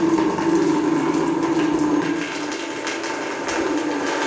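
Cold water runs through bathroom plumbing during a renovation check, a steady hissing, gurgling flow that holds at an even level throughout, dipping slightly midway, with no talk over it.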